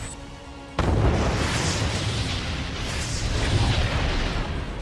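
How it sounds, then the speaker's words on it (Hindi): A loud explosion from a Russian military attack in Ukraine bursts in suddenly after a quiet moment, then a heavy, sustained rumbling roar rolls on for several seconds at close range. "रूसी सेना का विस्फोटक हमला जारी है"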